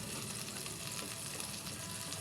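Tinapa smoked fish frying in a pan, giving a steady soft sizzle and crackle with no pauses, moderately quiet and alone without talk.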